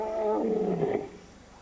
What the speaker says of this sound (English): Their roars to find each other carry far and wide.